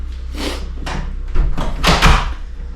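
A door in a tiny house swings open into the living area, with a few soft knocks and a rattle of the handle followed by louder rustling as someone steps through, close by.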